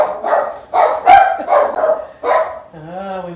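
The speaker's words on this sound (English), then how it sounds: "I think we got an Amazon delivery and the dogs are telling me about it." Several dogs bark excitedly out front at a package delivery, a run of loud, close bursts of barking with short gaps, ending in a drawn-out whine.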